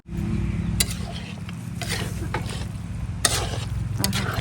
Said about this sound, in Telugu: ఇప్పుడు కలుపుకుంటాను చూడండి, మంచిగా ఉంది కూర